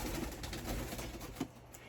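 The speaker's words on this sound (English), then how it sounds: "Yes, those are my birds." Pet doves or pigeons give soft, low cooing calls, with a few faint coos repeating indoors against a steady background hum and no speech.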